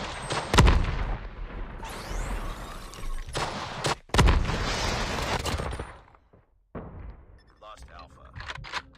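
MG82 light machine gun fire in COD Mobile as sharp, loud bursts of rapid shots with heavy booms, separated by brief gaps, then fading to sparse game sounds and quiet, with game voice lines mixed in.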